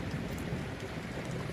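Steady rain falls in Batam, a dense, even hiss of drops with a low rumble underneath, continuous and fairly quiet throughout.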